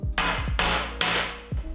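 A hammer strikes a nail into a piece of wood four times in quick succession, each blow a sharp, close, ringing impact followed by a short decay.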